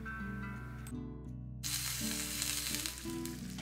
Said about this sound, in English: I washed, decored and chopped the peppers, and I'm just adding to this pan